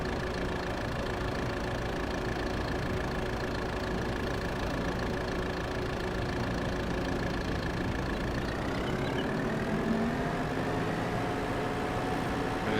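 A tractor engine idles steadily in Farming Simulator 22, a continuous low mechanical drone with a held tone that shifts pitch near the end as revs change, heard alone without talk.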